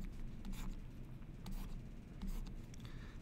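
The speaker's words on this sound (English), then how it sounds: "So in this case, drawing our standard diagram." Pen scratching across paper while a supply and demand diagram is sketched, a steady soft scraping with brief louder strokes, close and quiet over a low background hum.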